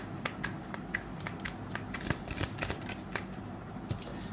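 Tarot cards being shuffled and drawn from a deck, a steady run of soft, close papery flicks and riffles with scattered sharper snaps, fairly quiet and with no voice over it.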